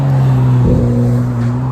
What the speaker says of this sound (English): why did that car have to be so noisy?